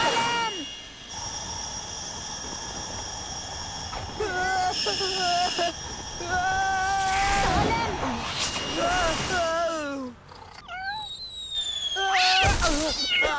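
Cartoon cat meowing in a children's animated show, several rising and falling cries repeated across the scene over music and effects, with voices talking between them.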